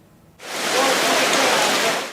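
Heavy rain falling on the streets of Diyarbakır, a loud, dense, steady hiss that swells in abruptly and then holds, close and even, with no talking over it.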